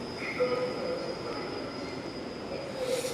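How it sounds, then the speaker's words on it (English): Train at a quiet, less busy station in Gyeonggi-do, South Korea, a steady rolling rumble with thin, high wheel squeals rising and fading, heard at moderate distance without talk. "this is what a less populated train station looks like in Gyeonggi-do"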